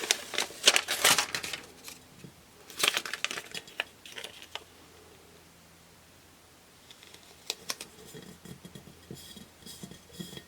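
Sticker labels peeled from backing and pressed onto glass containers, heard as soft crinkles, taps and scrapes in short bursts with a quiet pause in the middle, fairly faint and close.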